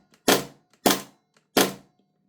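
An Airtac MP9 fed by an HPA shot shell adapter at about 120 psi fires three sharp, close pops, evenly spaced about two-thirds of a second apart, each followed by a faint click of the action.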